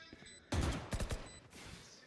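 Short burst of gunfire during a Valorant esports match, a loud cluster of sharp shots in the middle with a few rapid cracks following, framed by quieter game ambience.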